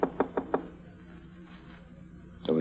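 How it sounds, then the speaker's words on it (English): Four firm knocks on a hotel room door in an old radio drama, evenly spaced and fairly close, followed by a hushed pause and a soft rising sound at the end. "knocked on his door"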